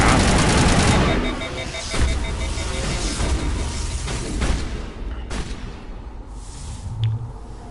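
Shotgun blasts from the video game Mass Effect Legendary Edition, a dense burst of loud gunfire and booms up front followed by several sharper single shots spaced a second or so apart over a steady background.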